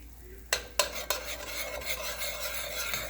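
Pesto stirred into orzo and chicken in a pan, with a few sharp scrapes of a utensil followed by a steady scraping, sizzling rasp, close and alone.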